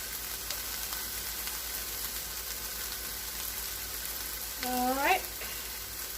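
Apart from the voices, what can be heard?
bacon sizzling as it crisps in a pan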